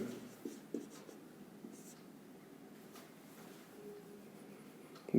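Handwriting with a pen on paper: a soft, continuous scratching and scraping of strokes over several seconds, faint and close, with brief louder taps near the start and end and no clear talk.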